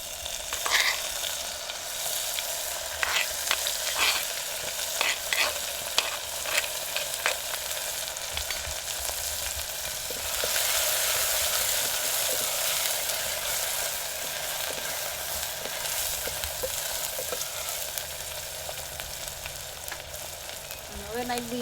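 Ginger, garlic and green chillies sizzle and crackle steadily in hot oil in a pan, a loud continuous frying hiss with scattered pops and occasional stirring scrapes.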